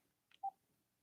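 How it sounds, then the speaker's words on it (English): A short electronic phone tone is heard, with a brief high blip followed by one clear mid-pitched beep. It sounds alone in a quiet background. "Oh, we got a phone call right there."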